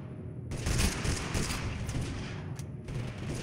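Dense, continuous gunfire in Totally Accurate Battlegrounds, rapid overlapping shots forming a loud sustained volley that starts abruptly and runs for several seconds, with a brief dip near the end.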